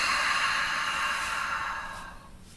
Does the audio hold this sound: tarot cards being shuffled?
no